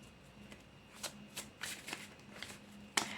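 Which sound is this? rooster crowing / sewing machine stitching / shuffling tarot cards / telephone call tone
shuffling tarot cards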